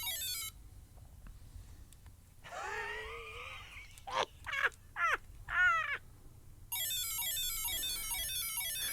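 A 1981 Grandstand Mini Muchman LCD handheld game plays its electronic bleeps: a gliding warble, then a run of short rising chirps, then a long stretch of fast repeating high tones, loud and close, with no voices.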